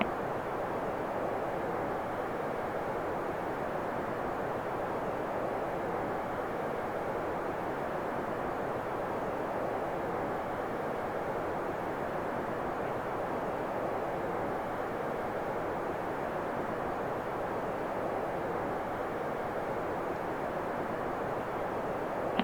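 A Toliss Airbus A321 cruising in the X-Plane 11 flight simulator on its way to land at Manchester, with a steady, continuous broadband engine and airflow roar holding at an even level throughout.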